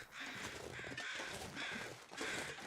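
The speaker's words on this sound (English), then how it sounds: "There's birds circling over there." Crows circling overhead in The Long Dark give three harsh, loud caws, spaced about a second apart, over a rough windy backdrop.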